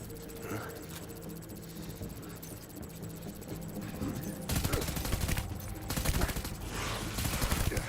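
Heavy gunfire bursts in the Death Stranding video game, a dense rattling barrage that swells louder midway and continues in clustered volleys, with a voice briefly heard underneath.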